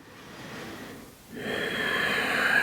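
Slow, deep breathing during a yoga practice: a soft, airy inhale, then a brief pause, then a longer, fuller exhale, close and steady with no talking.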